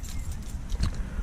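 Keys jangle close by, left behind at a stalled MAN horse box truck that won't start, in a short burst of metallic rattling with a couple of louder shakes, over low rumbling background noise.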